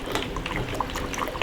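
Rooting solution is stirred into a container of water, giving a continuous close swishing and sloshing with small liquid splashes, no talk.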